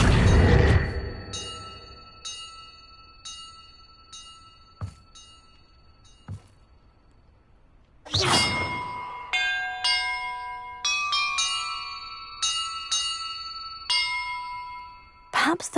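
Bells ring in Hogwarts Legacy: a loud low clang opens, then sparse single dings, followed by a busier run of overlapping bell strikes with long ringing tails, close and clear with no talking.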